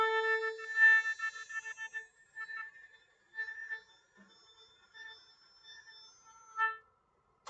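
A beginner-level oboe sustains the note A, fingered with two fingers and the thumb, in a thin, reedy tone that is quiet and close, with a few soft breaks between held notes.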